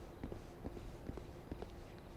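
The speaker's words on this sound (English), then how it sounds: "I hear footsteps, so we should probably all get over here and hide" Soft footsteps in the video game Lamplighters League patter in an uneven rhythm, faint and distant beneath a low ambient game backdrop.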